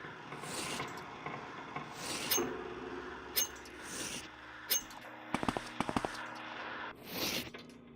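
Lockpicking a chest in the video game Morrowind Tribunal produces scratchy metallic scraping in short bursts, with a tight cluster of sharp clicks near the end.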